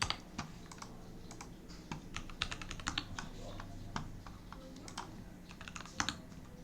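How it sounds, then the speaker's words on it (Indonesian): Fingers type on a computer keyboard in a university computer networking class, a steady run of quick, crisp key clicks with occasional louder taps, close and fairly quiet. Faint room murmur sits underneath. "Kok saya ngetik di sini?"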